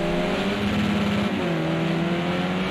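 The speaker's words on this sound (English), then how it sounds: "Carl Benson really revs the nuts off that Renault coming out of the hairpin" A Renault touring car in a racing video game at the Hockenheim circuit screams out of a hairpin, its engine revving hard and continuously at high pitch, loud and steady throughout with no voices.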